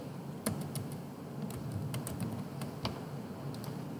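Typing on a computer keyboard, a run of sharp close key clicks at an irregular rhythm, fairly quiet over a faint room hum.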